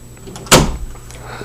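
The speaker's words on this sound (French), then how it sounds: "On ferme la porte." A door swings shut with one loud, close thud and a short rattle after it, followed by a lighter knock a moment later, in an otherwise quiet room.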